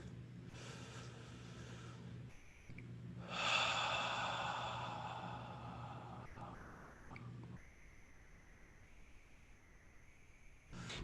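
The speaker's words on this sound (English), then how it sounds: "Everyone take another deep breath." A single deep breath drawn in during a guided meditation, a slow rising inhale followed by a long, soft exhale, heard close and quiet against a steady background hum.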